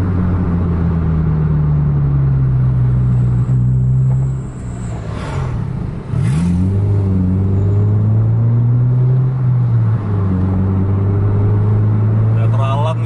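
Dense road traffic with cars and motorbikes, a steady loud engine rumble with rising and falling revs and vehicles passing close by, continuous throughout.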